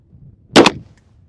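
A single sharp 9mm pistol shot fired with Norma MHP rounds, a loud close crack with a quick double burst and short ring-out against quiet outdoor background.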